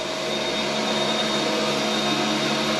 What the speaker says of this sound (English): the compressor's going to start up any second, so you might not be able to hear me